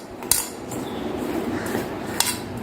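Bitter gourd is tossed by hand in a bowl with chili powder, cumin powder and salt, giving a steady soft scraping rustle broken by a few sharp clinks against the bowl.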